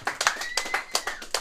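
An open mic crowd claps for a performer named Joe, a short burst of scattered, uneven applause with several loud sharp claps over a quiet room.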